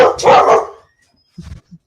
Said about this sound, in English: Don't apologize for our dog.